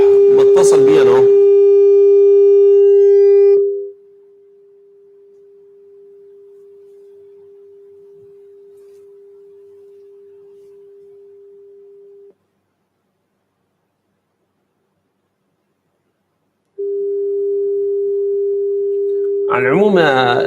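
A telephone line tone plays while a call is being placed, a long steady hum that cuts out for a few seconds and then resumes, with brief noisy bursts at the start and end.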